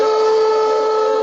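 A buzzy, sustained fiddle note in which the fourth finger touches the open A string, giving a harsh, rattling tone held steadily for just over a second with no talk.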